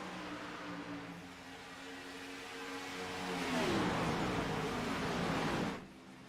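Race cars in an Xfinity Series video game race at Kansas Speedway roar past, a steady engine whine swelling to a loud rushing pass before dropping off sharply.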